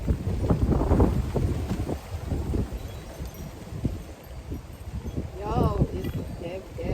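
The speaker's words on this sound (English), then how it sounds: "That wind is winding." Wind gusts through a vegetable garden, rumbling as buffeting noise against the microphone and swelling and easing, with a person talking over it.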